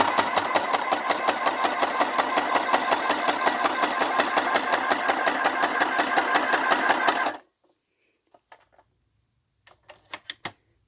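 A sewing machine stitches steadily for about seven seconds with a fast, even mechanical rattle, close and loud, then stops abruptly, leaving a few faint clicks and handling taps.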